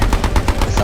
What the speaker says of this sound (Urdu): اس آواز کے چند ہی لمحوں بعد گولیوں کی بارش شروع ہو گئی۔